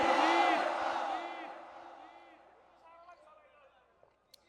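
A large Bangla waz gathering answers with a loud crowd chant of takbir, many voices rising together and then trailing off over a couple of seconds into near silence.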